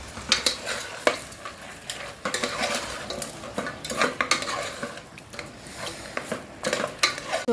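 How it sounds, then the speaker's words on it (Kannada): Mutton cooks in a pressure cooker as it is stirred, with frequent metal scrapes and clanks of a utensil against the pot over a continuous sizzle and no talking. "ಸೊ ಇವಾಗ ಮಟನ್ ಬೇಯ್ತಾ ಇದೆ"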